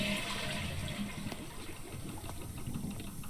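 A toilet flushes inside Botany Manor, a video game: a steady rush of water fills the space for several seconds, with a constant hiss and low churning and no voices.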